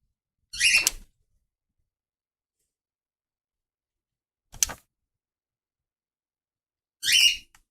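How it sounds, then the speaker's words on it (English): Birds call in three short, separate bursts spaced several seconds apart, fairly close, with silence between them. "those are normal birds"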